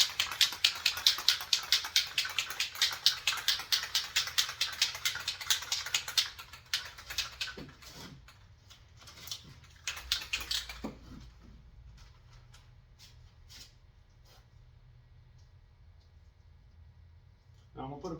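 An aerosol spray can is shaken hard in a garage during work on a left-for-dead 1993 Mustang Cobra. A fast, loud, steady rattle runs for about six seconds, then fades into scattered clicks and handling noises.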